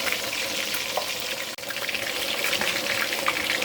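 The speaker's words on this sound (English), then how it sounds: "let that half fry" Black-eyed peas frying in a pan for a spicy gravy, giving a steady, close crackling sizzle that runs throughout with only a brief dip partway, no talking.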